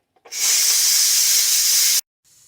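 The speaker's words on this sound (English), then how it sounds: "it is about to blow off a bunch of steam" An Instant Pot vents steam: a loud, steady hiss bursts out, holds for under two seconds, then cuts off abruptly, leaving a faint residual hiss.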